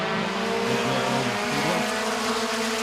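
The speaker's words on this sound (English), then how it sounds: "First compact heat race of the year" Compact race cars roar around Midvale Speedway during a heat race, a loud, continuous engine drone with shifting pitch as the pack passes close by.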